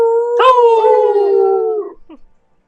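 A single long wolf howl used as a sound effect, loud and close, rising sharply at the start then holding a steady, slowly falling tone for over a second before a brief tail-off, with no talking.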